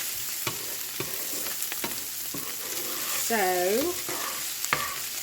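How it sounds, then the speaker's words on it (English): Sausage and onion browning in a hot pan, giving a steady sizzle broken by scraping stirs at intervals, with a brief squeaky tone midway; close and clear, with a single short spoken word. "get to browning this sausage and the onion"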